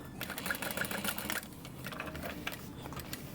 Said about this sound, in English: And then I'm back stitching.